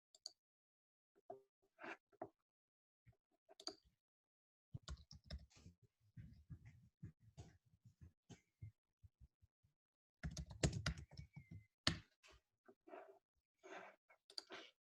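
Computer mouse clicks and keyboard presses at a desk during a metagenomics pipeline session: scattered quiet, sharp clicks and taps, sometimes in quick clusters, with silence between them.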